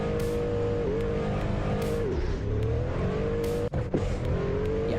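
A modified car accelerates hard from 0 to 60, the engine note rising through several gear shifts with brief dips between them, loud and continuous from inside the cabin.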